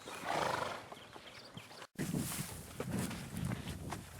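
A Percheron horse walks a snowy, icy trail on a ride, its hooves landing in a soft, irregular rhythm up close, with snorts and breathing over the steps and a brief gap partway through.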